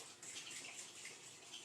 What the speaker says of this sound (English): And then we are going to run them under cold water.